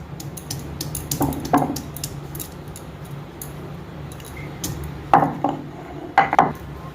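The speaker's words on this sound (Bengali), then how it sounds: "রসুনগুলো আমি একটু ছেঁচে দেব।" Garlic cloves crushed with a pestle while cooking koi fish, heard as a few sharp knocks and crunches, a pair near the start and a pair near the end, over a low steady room hum.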